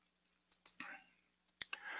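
Two sharp mouse clicks land a second apart, each followed by a short burst of faint rustling, over a quiet room with a low steady hum.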